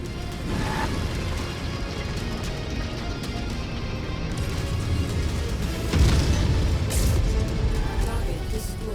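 Explosions during mech combat in the MechWarrior 5 video game: rumbling booms over a steady bed of battle noise, with a louder, heavier blast about two-thirds of the way through.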